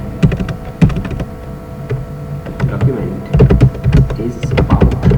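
Rapid typing on a computer keyboard while entering text into a Word document, a busy run of crisp, close key clicks in uneven bursts with short pauses, over a low steady hum.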